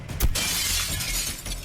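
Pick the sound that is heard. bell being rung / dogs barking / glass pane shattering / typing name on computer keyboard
glass pane shattering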